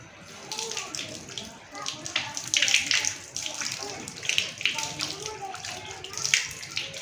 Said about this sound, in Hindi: अब वज़ू का जो चौथा फर्ज है वो हम देखेंगे और सीखेंगे, वह है अपने पैरों को धोना।